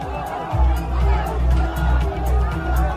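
A crowd gathered at a TMC party office in Falta, Bengal, carrying flags, banners and posters, a steady murmur of many voices and chatter with a low rumble underneath.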